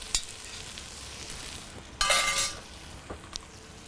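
Onions sizzle in a pan with a steady low hiss, broken by a few light clinks and a louder scraping stir midway, as a utensil moves them around to brown evenly.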